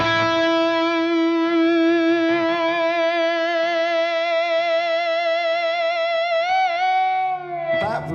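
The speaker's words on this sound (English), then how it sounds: "that one sounds more like feedback, whereas this one sounds more like the note sustaining" Sustained electric guitar note on the G string swelling into wavering, harmonic-rich feedback through distortion, comparing active and passive pickups, holding steady for several seconds before breaking off near the end.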